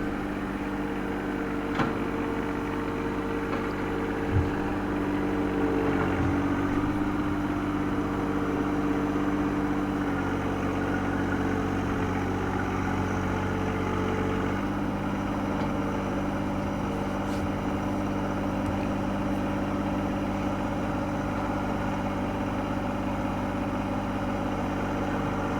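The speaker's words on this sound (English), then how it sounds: "You can see how the tooth bar is slicing the dirt very good, very easily." A John Deere 1025R compact tractor works a tooth bar through dirt, its engine droning steadily and fairly loud throughout, with occasional scraping knocks from the bucket and no talk.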